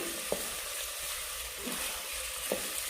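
Onion sizzles steadily in a pan with masala paste, a continuous bright frying hiss with a few soft stirring scrapes, close and moderately quiet, no voices.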